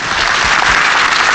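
A full-house crowd at a 1977 British professional wrestling bout in a civic centre applauding the moves, steady dense clapping throughout.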